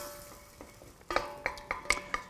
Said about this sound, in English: So we just wait for our butter to melt down, which you can hear it's just about there.